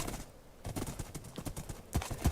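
Video-game horse hooves clip-clopping in a quick, even trotting rhythm, fairly close and moderately loud, with a couple of heavier thuds near the end and no voices over them.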